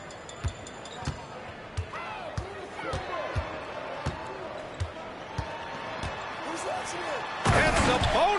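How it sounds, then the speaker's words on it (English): Sabonis dunking in the NBA 2K25 basketball video game: a steady run of sharp ball bounces on the court builds to a loud, crashing slam near the end, with crowd noise rising and a commentator talking over it. "And Sabonis slams it in."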